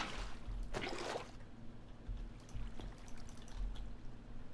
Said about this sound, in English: Make a little infinite water source